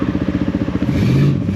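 A Honda CRF450RL dirt bike engine held at full throttle, close and loud, with a rapid pulsing thump that smooths into a sustained higher drone as revs climb.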